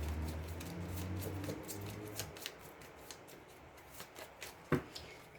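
Tarot cards are shuffled and cut by hand at close range, giving a run of soft riffling and papery flicks with a few sharper taps near the end, and no talking.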